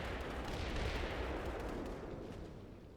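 Sustained machine gun fire in an online tank battle video game, dense and continuous, loud throughout with no talk over it.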